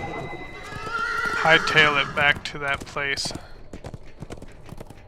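A horse in a fantasy video game set in Cormyr's King's Forest lets out a loud whinny as hooves clip-clop along, while someone talks over the sounds.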